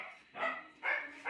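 Other dogs bark playfully at each other nearby, three separate bursts of barking with short pauses between, moderately quiet and with no talk over them.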